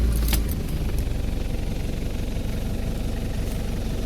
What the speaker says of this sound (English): There is the turbo diesel also. Let me just start it so you can get to hear how it sounds.